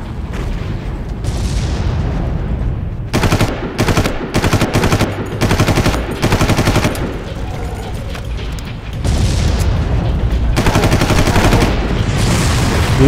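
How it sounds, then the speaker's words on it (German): Gunfire in the video game Far Cry: loud bursts of automatic fire in repeated rapid volleys separated by short pauses, with mechanical clatter and booms, no talking. "Wir ballern aber einfach mal auf die Gegner ein."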